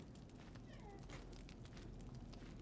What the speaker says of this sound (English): What are you doing, cat? I'm sorry, you're going to hear him being really noisy.